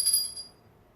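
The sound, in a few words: bell ringing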